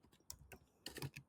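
Computer keyboard typing, a short burst of quick, close clicky keystrokes in uneven clusters, quiet and alone.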